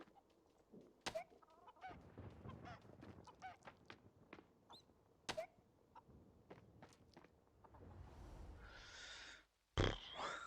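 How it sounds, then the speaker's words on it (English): Chickens in the farming video game Fae Farm cluck in short, irregular bursts amid scattered footstep-like taps and clicks, fairly faint, ending with a brief louder rushing sound. "No, bloody chicken."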